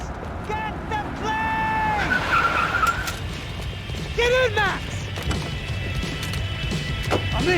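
Cars skid and tires squeal in Max Payne 3, with engines revving and sharp screeches under continuous speech and action noise, plus a crash-like thump midway.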